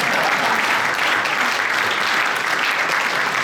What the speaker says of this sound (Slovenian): in še enkrat zaploskali